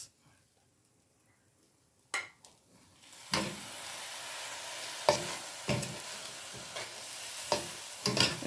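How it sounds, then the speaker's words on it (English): Pigeon peas (gandules) tipped into a pan of sizzling Puerto Rican yellow rice, a sudden splash and loud frying hiss followed by repeated stirring scrapes and clatters. "So we're going to add our gandules."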